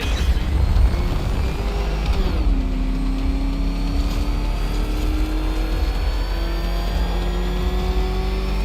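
The Batmobile's engine in Batman Arkham Knight roars loud and close, revving and shifting pitch as it accelerates, with a sustained high-powered drone holding steady throughout.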